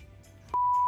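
A single steady electronic censor tone cuts in abruptly partway through over a low hum and runs loud and unbroken to the end.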